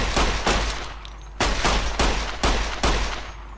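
Gunfire in the video game Fallout: New Vegas: six sharp, loud shots spaced roughly half a second apart, each with a short decaying tail, and no talk over them.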